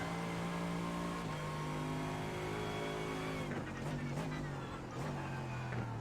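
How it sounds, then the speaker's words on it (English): A GT3 race car at Sebring in iRacing slides under braking, its engine droning loudly and steadily with tyres squealing and honking in short bursts as the car scrubs speed. "Again, a big slide under braking."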